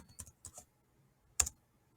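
Short bursts of keystrokes on a computer keyboard as a command is typed at a terminal: a few quick taps early on, a pause, then one louder clustered burst of key clicks, close and otherwise quiet.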